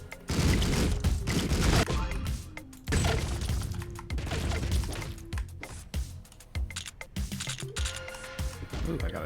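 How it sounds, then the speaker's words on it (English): Shotgun blasts and gunfire crash out in bursts in the top-down game Streets of Rogue, with sharp clustered bangs and impacts, loud and up front, while a person keeps talking over the action. "I got a shotgun now."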